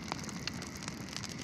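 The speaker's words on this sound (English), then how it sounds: "the sound of rain all around her" Steady soft rain falls all around, a dense, even patter with scattered brighter drops close by, continuous and unbroken by any voice.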